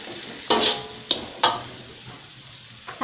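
A spatula stirs shrimp capcay, a vegetable stir-fry, in a hot pan, giving several scraping strokes spaced apart over a low steady sizzle.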